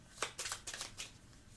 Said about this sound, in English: I have to shuffle these